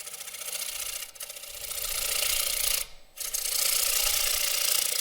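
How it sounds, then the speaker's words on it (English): A big gouge scrapes and rasps continuously against the wood of a rough turned bowl on a lathe, a dense grinding texture with two brief dips where the tool lifts away. "So I'm going to take a little bit of the wood away with the big gouge."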